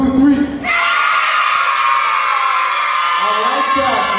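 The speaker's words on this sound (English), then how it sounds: "loud scream from your lungs" A group of young children, two youth squads at an event, let out one long, loud, sustained scream together, preceded by a brief adult voice.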